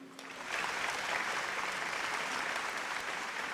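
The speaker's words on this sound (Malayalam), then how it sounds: "ചില ആൾക്കാർ ഇത് കേട്ട് കൈയടിക്കുന്നുണ്ട്" An audience breaks into applause: dense, even clapping swells in after a brief quiet start and holds loud and steady to the end, with no one talking over it.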